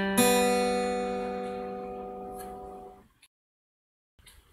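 A guitar plucks a note on the E and D strings that rings out clearly and decays slowly over a few seconds before falling silent, then a faint rustle follows.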